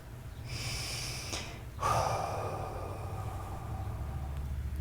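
Deep breathing with a strong, close exhale released all at once near the two-second mark, carried by a rushing breathy hiss that trails off over a steady low hum.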